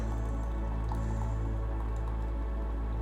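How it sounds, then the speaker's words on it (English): Seven cups of water poured steadily into a pot holding four ordinary tea bags, a continuous close splashing and trickling fill heard alone throughout. "I'm going to top it up with 7 cups of water"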